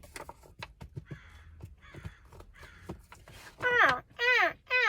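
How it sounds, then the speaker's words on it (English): A crow caws in a few loud, harsh calls near the end, coming after a stretch of quieter knocks, rustles and softer background sounds. "The crow is saying we need to move."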